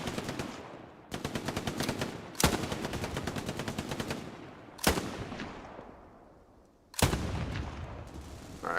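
Rapid automatic gunfire bursts in the World War II online shooter game Hell Let Loose, several loud sustained volleys separated by short sharp reports and echoing decays, with no talking.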